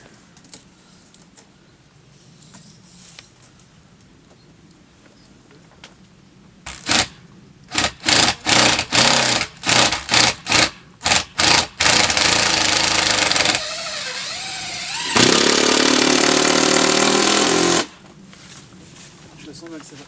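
Power screwdriver driving long sarking screws through counter-battens on a roof, a quick series of loud whirring bursts followed by two longer sustained runs as each screw is sunk, close by.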